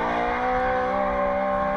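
Roush Yates V8 Mustang drift car with over 900 horsepower, engine screaming at high revs on a racing circuit, loud and close. A strong steady howling tone holds throughout with no voices.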